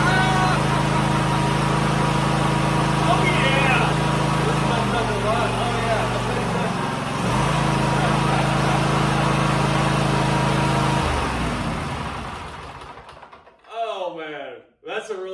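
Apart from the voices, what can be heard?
Kohler Courage SV740 engine running on Cub Cadet GTX 1054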